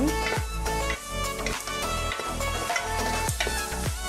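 A pot of African-style rice being stirred after salt is added, with onion frying in olive oil: repeated scraping strokes of a spoon against the pot over a continuous close sizzle.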